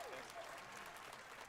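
A small audience of about ten people clapping at a Summer Game Fest show, faint and brief steady applause with a voice faintly underneath.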